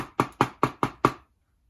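Five sharp, evenly spaced knocks rap on a door in a read-aloud story, close and crisp, each ringing briefly before the next, then silence.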